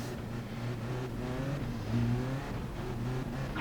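A Lexus RC F in GT Sport revs steadily, its engine tone climbing and dipping in smooth sweeps, loud and close, alone with no voices.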